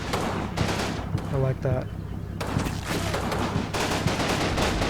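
Dense volleys of small-arms and machine-gun fire in the World War II strategy game Combat Mission: Fortress Italy, a battle at a village, crackle continuously with someone speaking briefly over them.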